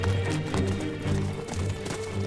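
Horse hooves on a ride out, a fast rhythmic clip-clop of galloping strides, close and steady throughout with no voices.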